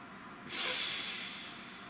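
A single deep inhale, close and airy, rising sharply into a broad breathy hiss and easing off slowly.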